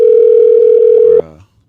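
A steady telephone tone on an outgoing call holds loud and unbroken for just over a second, then cuts off abruptly with a brief fading tail.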